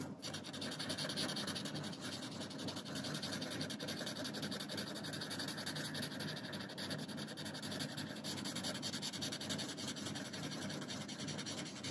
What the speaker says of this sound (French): Graphite que je vais bien entendu étirer, étaler avec mon estompe.